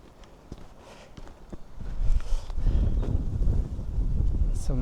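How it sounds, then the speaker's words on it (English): Cold wind gusts across a felled stretch of the Forest of Dean, a low buffeting rumble on the microphone that swells and stays strong after the first couple of seconds, with faint footsteps beneath. "it's bitterly cold when that wind blows"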